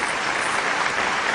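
An audience at a live stage event claps in steady, dense applause that fills the whole moment evenly, loud and close, with no voices rising above it.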